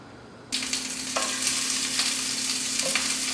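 Pineapple drops into olive oil in a hot pan and sizzles loudly at once, a bright steady frying hiss with a few stirring scrapes on top.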